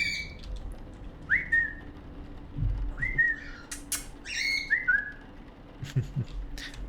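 Pet birds give several short rising whistles and chirps spread across a few seconds, fairly close and clear over a quiet indoor background.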